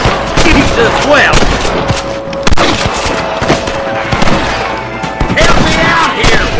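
Rapid bursts of gunfire crackle almost without pause through a shootout with rustlers in the video game Red Dead Redemption, loud and dense, with shots overlapping one another and no clear talk.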